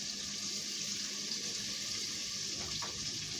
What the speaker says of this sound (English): Instead of putting water, I'm gonna put half and half, water and broth.